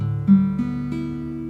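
Guitar strings tuned to drop D, with the low E string lowered a whole step, struck one at a time as three or four sustained notes that ring together, close and moderately quiet.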